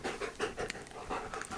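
A dog panting close by in quick, rhythmic breaths, steady and fairly quiet, with no talking over it.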